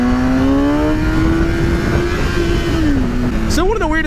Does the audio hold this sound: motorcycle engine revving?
yes